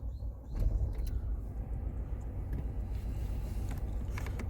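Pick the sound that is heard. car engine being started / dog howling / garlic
car engine being started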